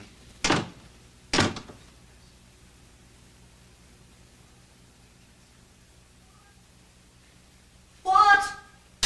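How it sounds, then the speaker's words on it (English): Double doors shut twice in quick succession indoors, two sharp close thuds spaced about a second apart in an otherwise quiet room, followed later by a brief rattle of movement. "just let me close the double doors for a minute"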